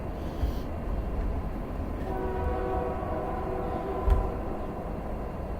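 A passing train's horn sounds over a loud, continuous rumble of rolling rail cars, the tonal blast holding steady for a few seconds in the middle, with no talk.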